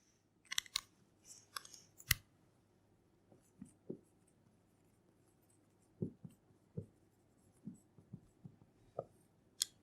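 Marker or chalk strokes on a classroom board during a Hindi biology lecture, a scattered series of short scratchy taps and squeaks, some quick clusters and some isolated, fairly faint with no talking over them.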